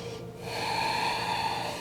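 A deep breath drawn in during a yoga flow, a steady close airy inhale that swells and holds for under two seconds, alone without talk.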